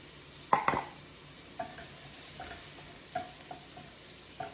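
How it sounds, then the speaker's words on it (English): Steak taco filling sizzles softly in a frying pan while a utensil stirs it, giving a sharp scrape at first followed by several lighter clinks and scrapes over a faint, steady hiss. "Stir around a little bit of the, mix it all well, all together"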